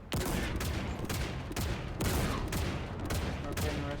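A mounted gun fires in a video game, rapid heavy bursts in loud, dense volleys with brief gaps between strings of shots, close and dominant.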